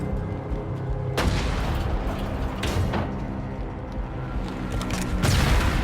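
In the video game REANIMAL, a tank fires shell after shell as a run of loud, sharp booms, about four blasts spaced a second or two apart, each one's rumble lingering over dense, chaotic game noise.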